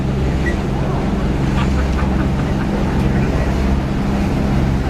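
A tour boat engine drones steadily on the ride across Pearl Harbor to the USS Arizona Memorial, a loud continuous low rumble mixed with wind and water noise and no break.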